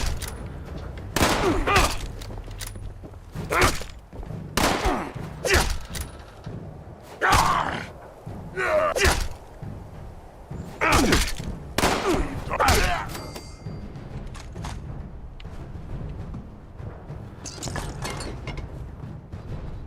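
Gunfire from a gun in the video game Fallout 76 rings out in loud bursts of sharp shots spread across the stretch, with quieter gaps and some faint background sound between volleys.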